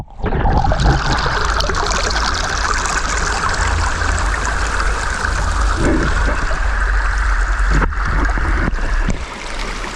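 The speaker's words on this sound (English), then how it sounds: "Release him in some fast water" Fast-flowing water in a deep-woods trout stream rushes steadily and loudly for the whole stretch, a close, continuous broadband wash with no talk over it.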